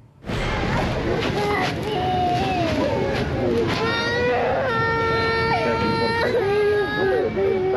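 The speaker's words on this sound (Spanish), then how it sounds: "se escuchan las voces de niños pequeños llorando desconsoladamente y pidiendo ver a sus mamás y a sus papás" Small children crying inconsolably in a detention center, loud sustained wailing and sobbing from several young voices at once, close and continuous with overlapping cries.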